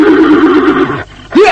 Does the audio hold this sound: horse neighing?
yes